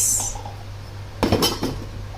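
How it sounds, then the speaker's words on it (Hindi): Drinking glasses set out on a table for a home dinner knock and clink together in one short clustered burst, close and fairly loud, after a quiet stretch. "तो ये मैंने लगा दिए यहाँ पे सारे ग्लास"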